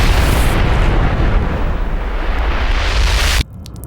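A huge, roaring blast as red energy beams from starship cannons slam into the Earth's surface, a loud sustained rumbling explosion that cuts off abruptly into near silence.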